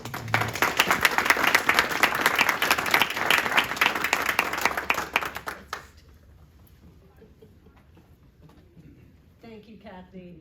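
A room of community members at a recovery-ready workplace launch applauds a representative, dense clapping holding steady for about six seconds before stopping abruptly, leaving quiet room tone and a faint voice near the end.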